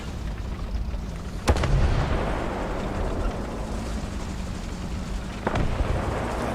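Tank cannon firing blind in War Thunder, two heavy booming shots about four seconds apart over a constant rumbling engine drone, no speech.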